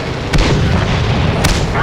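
Tank cannon fire in a tank video game booms loudly and dense, with two sharp blasts about a second apart over a constant rumbling din.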